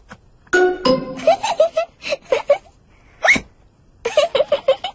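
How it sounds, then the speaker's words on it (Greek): George Pig from the Peppa Pig cartoon hiccups after gulping his juice too fast, several loud, close, squeaky hiccups in uneven bursts with short quiet gaps between them. "Ο Τζορτζ ήπια το χυμό του πολύ γρήγορα και τώρα έχει λόξιγκα."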